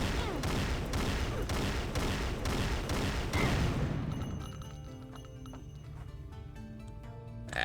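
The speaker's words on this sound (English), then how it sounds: "Just destroy cube by shooting at cube." Rapid gunfire in an Unreal Engine video game as a cube is shot: a fast, loud string of evenly spaced shots for about four seconds, then breaking debris and effects ringing out more quietly.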